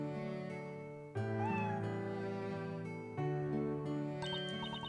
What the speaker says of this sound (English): Such a cute cat. So well behaved and clever, too.